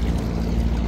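A boat out on the water during a picnic trip in Bangladesh, with a loud, steady wash of engine and water noise over a brief moment and no talk.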